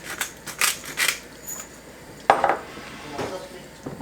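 Creamy tomato sauce for salmon being mixed in a pan, with a few clinks and scrapes of a utensil against the metal and a sharper knock midway, close and fairly sparse with a little background noise.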